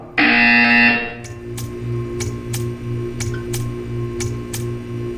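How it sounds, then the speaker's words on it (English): A loud electronic buzzer blares for about a second, then gives way to a humming room tone with regular faint ticks. "You will hear a buzzer."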